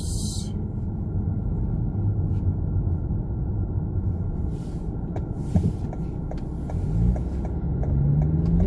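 A Lamborghini Huracan Evo drives through a sparse parking lot, its engine a low, steady rumble with a few light clicks and a rising growl near the end.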